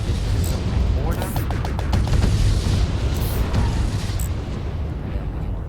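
Ship weapons firing in the space combat video game Fractured Space: a dense, continuous barrage of booming blasts and crackling bursts, loud and close, with sharper impacts standing out around the first and third seconds.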